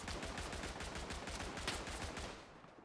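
Dense, rapid gunfire from the World War I shooter Tannenberg, overlapping rifle and machine-gun shots crackling in a steady barrage, with no speech.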